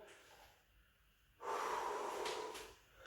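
A single breath drawn in during a Pilates exercise: faint room tone first, then an audible, close inhalation that swells and holds for about a second and a half before easing off.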